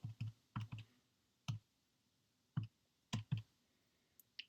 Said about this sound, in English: what's nice about this calculator is that you can type in everything at once